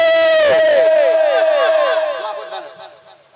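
A crowd loudly shouts a takbir response at a religious gathering, one strong collective cry that swells and then fades away over a few seconds.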